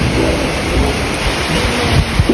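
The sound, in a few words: heavy rain at a mountain camp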